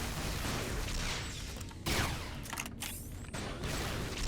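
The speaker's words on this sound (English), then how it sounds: "There's a lot of noise coming around. Probably a shooting range or something." Gunfire at a shooting range in Fallout New Vegas: dense, continuous bursts of shots and booming impacts in a noisy wash, fairly loud, with no talking.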